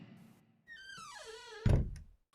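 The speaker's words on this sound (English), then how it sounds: "The bedroom door." A bedroom door swings open with a drawn-out, falling hinge creak, then lands with a solid thump. It is close and fairly quiet, with no voices.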